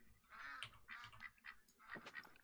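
Ducks quacking in the hunting game theHunter Call of the Wild, several rasping quacks in quick irregular bursts, fairly faint.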